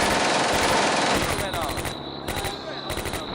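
Dense, rapid machine-gun bursts and rifle fire from the WWII strategy game Combat Mission: Beyond Overlord roll on almost nonstop, loud and overlapping, with short breaks between volleys.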